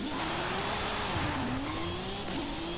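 The 1987 Mercedes-Benz AMG Hammer Coupé in Forza Horizon 5 drives hard, its engine note loud and steady with pitch rising and dipping through the revs, a continuous close roar.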